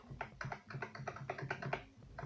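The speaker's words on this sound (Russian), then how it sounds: "Она, конечно, звучит громче, чем мембранная клавиатура, но не так громко, как механическая клавиатура" Steady typing on a ThunderX3 TK40 membrane keyboard: a run of close, soft, dull keystrokes in an uneven rhythm, without sharp clicks, alone in a quiet room.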